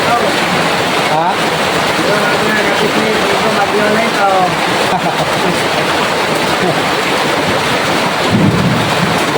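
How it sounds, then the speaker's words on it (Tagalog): Heavy rain pours down in a thunderstorm, a loud, dense, constant roar with deep rumbling underneath; faint voices are barely audible beneath the downpour. "Bagyo na."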